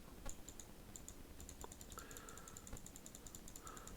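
Rapid mouse and keyboard clicks tapping away during play of the strategy game Infinity Kingdom, a steady run of sharp, close clicks alone over a faint background hum.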